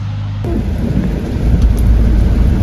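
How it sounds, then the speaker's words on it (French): Steady heavy rainfall with a deep rumble of thunder rolling underneath, loud and continuous, the downpour swelling suddenly after a brief quieter opening. "il pleut déjà"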